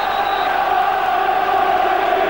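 A football crowd at Charlton Athletic's ground, The Valley, roars steadily during an FA Cup third-round match against Sheffield Wednesday as Charlton line up a corner kick, a dense, continuous wash of cheering and shouting from a large stadium crowd.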